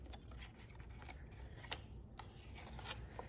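Scissors snipping card stock for a Halloween treat box, a few quiet crisp snips and rustles spaced irregularly over faint background noise, no talking.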